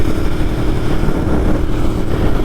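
A Ducati Monster 1200S motorcycle engine running while riding with engine and tires warming up, a loud, steady low rumble with rushing wind noise throughout, no speech.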